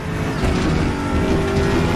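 Loud, close engine note of the Aquila CR1 prototype track-day race car in RaceRoom Racing Experience at Portimao, revving hard and continuous with slight rises and falls in pitch.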